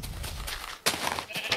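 Blocky video-game sheep bleat in a pixelated farm world, several short broadband calls following one another across a second and a half, close and fairly loud with no talking over them.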